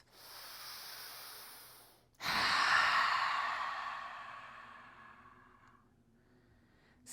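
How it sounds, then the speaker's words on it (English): A long, deep breath exhaled through the mouth during a gentle yoga class, rising suddenly as a loud, airy rush that fades slowly over several seconds, after a quieter steady inhale through the nose. "Let's deep inhale through the nose and exhale from the mouth"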